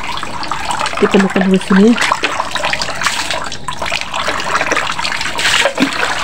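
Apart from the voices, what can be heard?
water running from a tap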